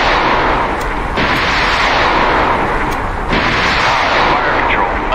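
Submarine firing torpedoes in the naval game Cold Waters, set in the South China Sea aboard USS Massachusetts: loud, continuous rushing launch noise with two sharp surges, heavy and close throughout.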